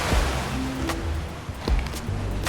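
Surf rolls and breaks along the shore at Puerto Viejo on the Caribbean coast, a steady broad wash of ocean waves with a low rumbling undertone and no voices.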